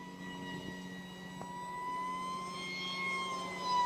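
An RC Powers F-35 V5 model jet flies overhead with a steady, thin, whining tone that holds throughout. It rises and swells slightly as the plane passes, heard alone at moderate distance.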